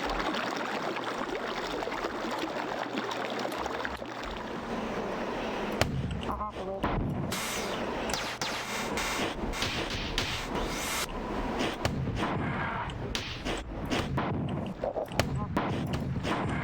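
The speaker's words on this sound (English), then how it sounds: "I'm just going to use it as a grenade launcher" Gunfire in the video game Marathon Infinity, with a rifle fired as a grenade launcher, producing dense, loud repeated blasts and explosions over continuous game noise for the whole stretch.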